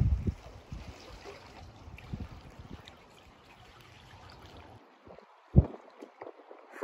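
Kayak paddle strokes dipping and splashing along a sea coast near a beach, soft watery swishes and trickles that fade into quieter lapping, with a couple of sharper splashes near the end.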